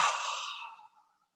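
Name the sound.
deep breath during yoga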